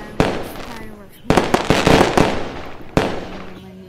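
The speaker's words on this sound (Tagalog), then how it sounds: "fireworks." Fireworks burst in three sharp bangs with crackling trails, loud and close, the middle burst the longest, and faint voices underneath.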